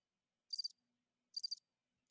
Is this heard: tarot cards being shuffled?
no